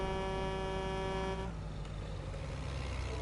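A vehicle horn in the video game Jurassic World Evolution 2, a single sustained honk held for about a second and a half over a low engine rumble, which carries on alone after the horn stops.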